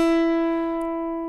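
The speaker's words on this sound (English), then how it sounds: "Hold down your B string with your fingertip at fret 5, for example. That should sound like this." A guitar's B string is fretted at the fifth fret and rings as one clear sustained note that decays slowly, heard alone and up close.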